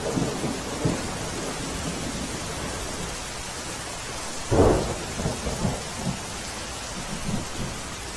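Steady heavy monsoon rain in Anand district, Gujarat, hisses on surfaces, with a low thunder rumble rolling through midway.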